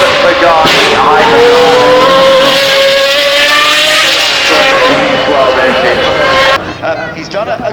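A Bugatti sweeps around a corner at the Goodwood Festival of Speed, engine note rising and falling loud and close with tire squeal, while a commentator talks over it before the sound cuts off abruptly near the end.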